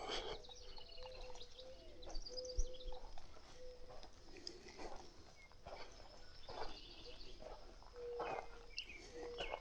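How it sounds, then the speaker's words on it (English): Two or more mourning doves calling on a spring day in Kansas, soft repeated coos rising over a busy background of other birdsong, chirps and insect hum, with no talking. "Here are at least two different mourning doves."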